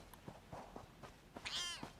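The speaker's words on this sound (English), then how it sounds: "Damn cats." Cats meowing in The Elder Scrolls Online, a soft meow followed by a louder drawn-out wavering meow near the end, over faint footsteps and game ambience.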